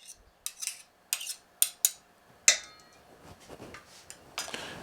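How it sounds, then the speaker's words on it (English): A small spoon taps and scrapes against a bowl while whisking cake batter for a cream cheese coffee cake, giving a series of sharp, irregular clinks and then a softer, busier rattle. "Help us whisk it a little better."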